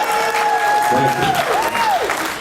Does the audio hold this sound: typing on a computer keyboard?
no